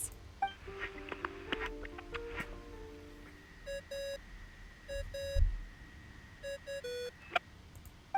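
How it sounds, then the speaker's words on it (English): A ringing tone in Genshin Impact plays as a repeating electronic phone-like melody of bright beeps and chimes, with steady intervals over soft game ambience and no talk. "I really hate that ringing tone."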